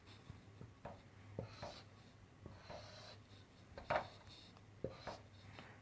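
Handwriting with a pen or marker on a board or paper, a series of short scratchy strokes and taps in an irregular rhythm, close and fairly quiet, with no talking.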